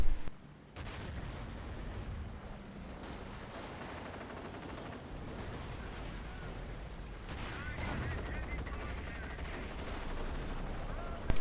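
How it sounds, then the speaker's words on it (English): Gunfire from a Stuka in a World War II strategy game, a dense run of rapid shots and booms lasting throughout, with a louder burst near the end. "There we go, Stuka's finally firing, hopefully on the AT gun."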